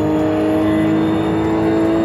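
A RUF race car in the iRacing sim, driven with a Thrustmaster wheel, holds a loud, steady engine drone as a gear change goes wrong, with no clear break in the tone.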